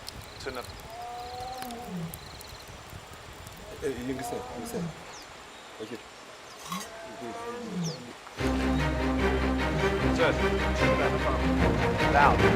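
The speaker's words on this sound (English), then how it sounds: "lions will often roar just before sunrise" A lion roars in the bush just before sunrise, a series of low, throaty calls rising over a quiet outdoor ambience with faint birds, until a louder wash of music takes over the second half.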